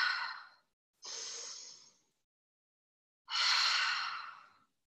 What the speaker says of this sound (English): Let's take a nice big deep breath.